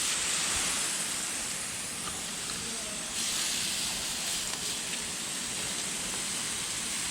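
Water sprays steadily onto barhi date bunches on a date palm plantation, making a constant, even hiss with no pauses.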